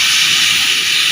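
Chicken pieces dropped into hot oil at a family grill party fry with a loud, continuous bright sizzle and hiss, close and steady throughout.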